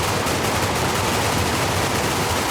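Gunfire in the battle game Ultimate Epic Battle Simulator 2, a dense, continuous wash of rapid shots blurring into a loud, unbroken roar with no pauses.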